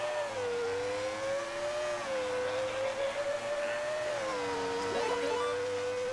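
A racing car engine in the video game New Star GP, a whining tonal drone that rises and falls steadily as the car accelerates and slows through turns, alone with no talk.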